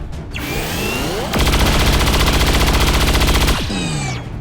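Sustained automatic gunfire from the XCOM 2 video game, a rapid burst lasting about two seconds that stands out loud and close, framed by swelling whooshing effects before and after, with no voices.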